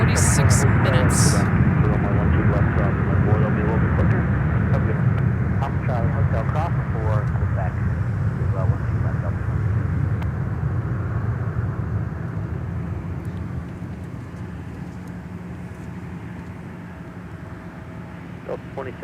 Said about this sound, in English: Arriving from Cancun, Mexico is Delta Flight 1878, an A321